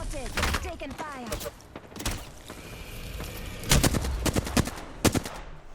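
Gunfire in the shooter Apex Legends: rapid automatic bursts crack sharply near the start, a lull follows, then clustered loud shots ring out later, with faint voices occasionally underneath.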